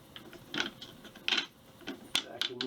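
The adjustable cheek plate on a Hatsan Piledriver 457 air rifle being moved and screwed into position, giving a few scattered close mechanical clicks and soft ratcheting scrapes.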